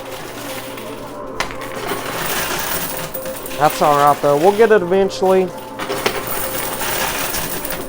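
Coins clatter and spill in a high-risk double-wall coin pusher machine as the pusher shoves a stack over the edge, a dense metallic jingling burst in the middle of the stretch, with a person talking over the arcade noise.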